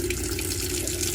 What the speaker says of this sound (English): get nice clear water coming through